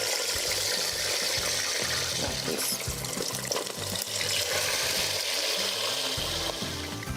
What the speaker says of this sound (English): Now that we've checked our oil's hot, we're going to start placing the chicken in.